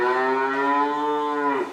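A dairy cow on a farm in Greenville gives one long, clear, close moo that holds steady and then drops off at the end.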